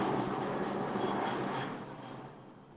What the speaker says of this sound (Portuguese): Vou deitar para esperar passar o avião.